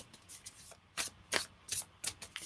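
Tarot cards being shuffled by hand, a series of short crisp riffling bursts in a loose rhythm, close and fairly quiet, with no talking.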